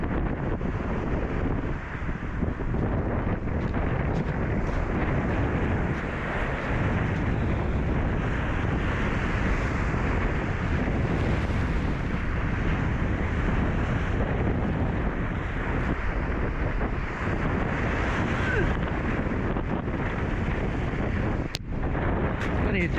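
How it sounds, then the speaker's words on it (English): Strong wind roars across an open beach, a loud continuous buffeting blast battering the microphone with rumbling gusts throughout, near and unbroken. "Getting blasted by the wind"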